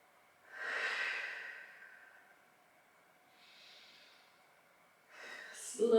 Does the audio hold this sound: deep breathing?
yes